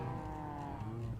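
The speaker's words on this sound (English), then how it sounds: "So many cows." Minecraft cows lowing in the Sky Factory modpack, a steady droning moo that carries through the whole short stretch with no break, moderately loud and fairly close.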